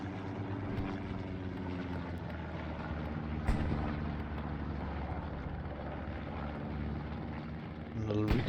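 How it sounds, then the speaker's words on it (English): Propeller drone of a recon plane passing overhead in the Hell Let Loose video game on Utah Beach, a steady loud engine roar filling the scene with game noise and commentary talk underneath. "And the little recon plane comes up over the top."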